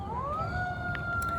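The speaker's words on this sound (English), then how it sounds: "God damn it, ambulance." Ambulance siren passing in the street, a rising wail that holds steady and fairly loud over traffic rumble.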